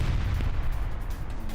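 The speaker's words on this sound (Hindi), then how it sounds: "आईडीएफ की फायरिंग, ये देखिए जरा" IDF gunfire in Jenin in the West Bank, caught on news footage: a dense, continuous barrage of low booming shots and bursts that blur together into a steady rumble, with no talk over it.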